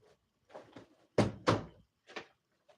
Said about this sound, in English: They banging on my door like they're the police scared me to death.